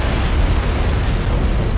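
An antimatter charge detonates aboard a ship in Halo, a loud, dense rumble with heavy low-end boom that stays sustained and roaring for the whole stretch, no voices over it.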